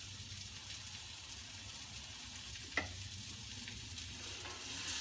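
Salmon fries in a new non-stick pan, giving a steady, moderate sizzle that runs throughout, with one brief sharper clink partway through and no talk.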